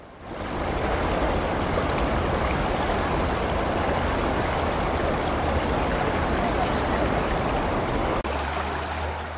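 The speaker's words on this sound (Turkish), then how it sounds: "sesi ve görüntüsü çok güzel olan bu su yolunda yürüyüş yapmak" A waterway stream flows with a steady, dense rushing and splashing, loud and continuous throughout, with no voices over it.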